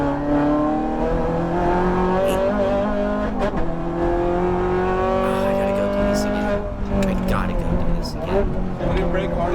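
A BMW M4 GT4 race car in a Forza racing game snarls at high revs, with its engine pitch rising through gears, dropping on downshifts and climbing again, plus tyre noise. Someone talks over it throughout.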